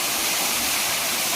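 Water gushes steadily into a village well, a dense continuous rushing splash with a faint engine-like hum beneath, close and fairly loud with no talking.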